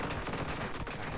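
Rapid projectile fire in a Touhou roguelike video game, a dense, continuous burst of fast shots with no talking.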